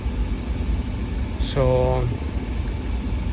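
A 2012 Audi A4 engine idles with a steady low hum and drone after thermostat housing and water pump replacement, while someone briefly speaks over it.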